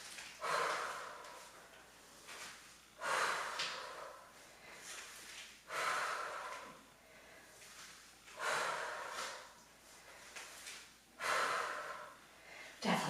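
Forceful breaths are pushed out in a steady rhythm during a rotating punch workout, about five sharp, close huffs spaced a couple of seconds apart, with quieter breathing between them.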